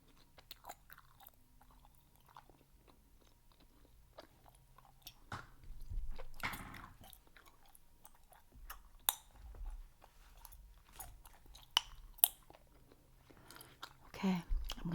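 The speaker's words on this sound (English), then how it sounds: "And chew some bubble gum." Soft, wet chewing of Bazooka bubble gum close to the mic, with irregular smacks and clicks that grow busier midway, accompanied by occasional quiet speech.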